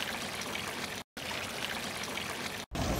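Water from the Anna Seiler Brunnen, a public drinking fountain in Bern, Switzerland, pours and splashes in a steady, close stream, broken by two brief cuts.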